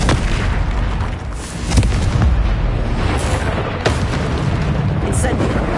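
Confringo blasting spells exploding in Hogwarts Legacy combat, a string of loud booming bursts with sharp cracks at irregular moments over a constant battle rumble, with voices beneath.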